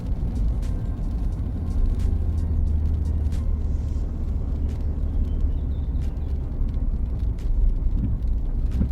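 A car drives steadily through a wooded residential neighborhood in Woodinville, Washington, its low engine and road rumble continuous and close, with occasional faint bumps and ticks over the drone.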